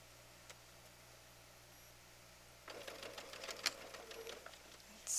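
A home sewing machine stitches through bulky quarter-inch quilt seams, a low steady hum turning into a denser rattling whir partway through, close and moderately loud with no talking.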